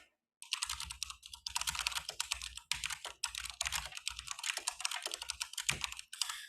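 Computer keyboard typing as an account size and risk figure are entered into a trading lot-size calculator: rapid, steady clusters of close, crisp key clicks with brief pauses, no voices.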